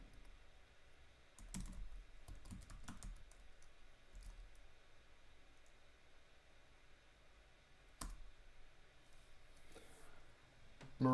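Quiet computer keyboard typing, a short cluster of soft key clicks followed by scattered isolated taps, faint and close against a hushed room background.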